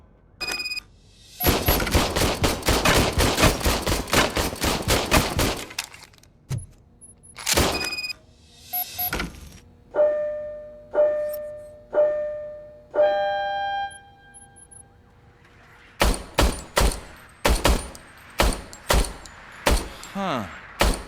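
An old, newly serviced service pistol in RoboCop: Rogue City fires a rapid burst of sharp shots, followed by isolated single shots and clicks with pauses between them, ending in another fast string of shots.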